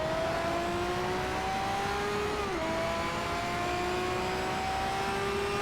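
A Pagani Zonda R race car engine in Need for Speed: Shift holds a loud, steady high rev, with a brief drop in pitch as it shifts gears midway before climbing again, dense and continuous with no talk.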